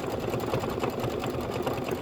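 An embroidery-capable sewing machine hums quickly and evenly, laying down decorative outline and detail stitching on a quilted pillow block, a dense rapid pulse of needle strikes close up.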